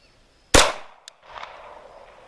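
A single sharp, loud shot from a SIG Sauer P226 pistol fired in single action, followed by a brief metallic tick and then some faint background noise and a low rumble.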